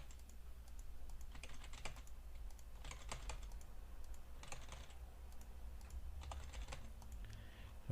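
Computer keyboard typing comes in four short bursts of quick key clicks at a steady pace, close and fairly quiet over a low background hum, with no voices.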